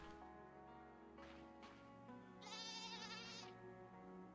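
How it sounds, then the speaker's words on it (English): A goat bleats in a farming video game demo: a wavering, nasal call stands out clearly over steady game music and ambience, with a couple of softer bleat-like bursts before it. "I keep hearing a goat sound."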